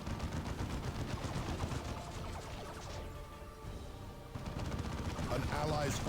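Dense gunfire as Eldar Guardians attack a Tarantula turret in Dawn of War 2, rapid overlapping shots and cracks throughout, briefly thinning midway, with a voice talking underneath.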